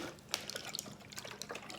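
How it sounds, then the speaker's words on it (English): Water sloshing inside a plastic bottle as it is shaken, soft irregular splashes and gurgles, close and quiet, with no talking. "So we need to shake the water bottle and make it look like a storm."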